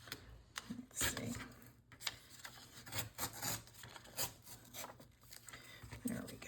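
Junk mail envelope paper being torn by hand, a series of faint, close rasping rips and rubs in uneven short bursts.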